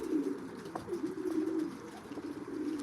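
Racing pigeons coo steadily at their loft, a low soft murmur of several birds overlapping throughout, with a few brief higher calls and light rustles.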